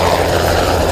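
A helicopter carrying ballot boxes to riverside communities in Altamira thrums loudly and steadily nearby, a brief continuous rotor and engine roar.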